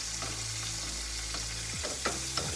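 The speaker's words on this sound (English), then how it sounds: "Let that melt, and I'm basically just scooping up the butter, and putting it, melted butter, and putting it over the fish." Butter melts and sizzles in a pan with salmon, a steady close frying hiss with faint stirring scrapes and no talking.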